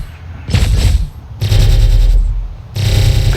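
The Misc Reliant Kore ship fires its repeater weapons in the Star Citizen space game, heard as three loud bursts of rapid booming gunfire, each about a second long, with short gaps between them.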